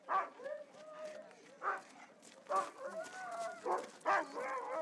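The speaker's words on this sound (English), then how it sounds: "Bringing out 5 of these Alaskan huskies, hooking them up to this sled." Several Alaskan huskies at a Denali Park sled dog demonstration yip, whine and bark excitedly in repeated bursts, close by, with howling and whimpering tones between the barks.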